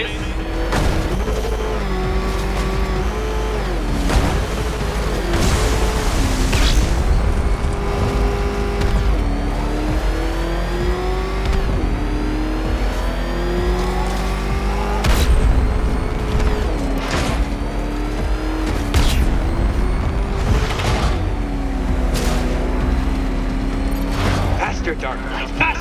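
The Batmobile racing in Batman Arkham Knight, its engine droning and revving with rising and falling pitch. Repeated booms and mechanical clanks cut in over a loud, continuous game soundscape, and a voice speaks at times.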